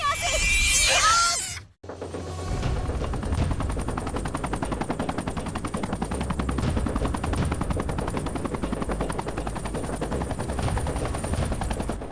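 A Jet Ranger helicopter, a Terran Mac D 86I, flies close by with a loud, steady rotor and turbine drone that runs unbroken for about ten seconds after a brief shouted voice and a short sharp cutoff at the start.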